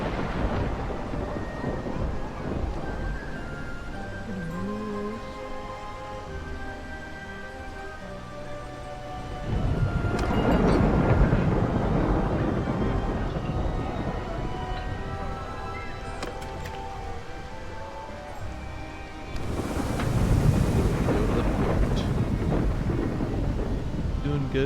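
Stormy weather at sea in RuneScape: a steady wash of wind and rain with tonal game music, broken by two loud rolling thunder bursts around ten and twenty seconds, each swelling and lingering.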